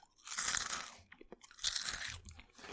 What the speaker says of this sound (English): that is a good chip with a crunch